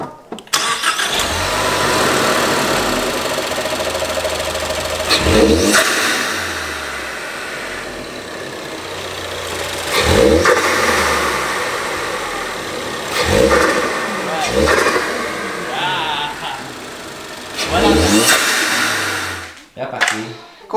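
Ford Focus ST engine fitted with a green intake filter, revving in several rising bursts that swell and fall back to idle, close and loud, with someone talking over parts of it.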